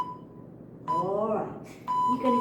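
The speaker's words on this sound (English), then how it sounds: "I'm going to switch the timer off" A workout timer gives two bright electronic beeps about a second apart, each lingering briefly while someone talks over them.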